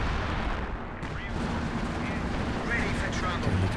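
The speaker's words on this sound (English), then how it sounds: "there's a machine gun with the incendiary rounds" A captured MG42 machine gun rattles out incendiary rounds amid dense battlefield din in Company of Heroes 2, with continuous gunfire and explosions blending into a loud, steady roar under a commentator's voice.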